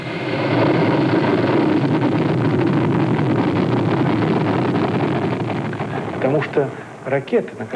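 A Soviet Voskhod rocket with a three-man crew blasts off, giving a loud, sustained broadband roar that holds steady for several seconds and then fades into rumbling bursts.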